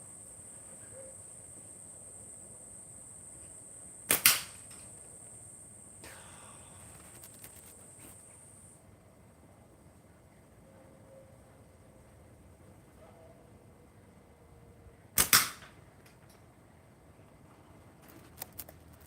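Slingshot shots strike a can outdoors in the morning sun, giving two sharp, distinct metallic impacts about eleven seconds apart against a quiet background of faint insect hum.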